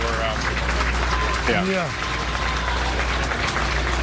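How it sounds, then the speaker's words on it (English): A crowd applauding outdoors as George Floyd's family emerges: a diffuse, sustained wash of clapping heard from a distance beneath a voice speaking over it. "you can probably hear the applause here from the crowd"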